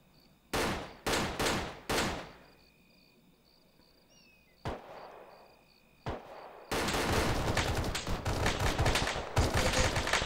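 A support gunner fires in Arma 3: three loud bursts, a pause, two more shots, then a long sustained stretch of rapid automatic fire, with insects chirping faintly between shots.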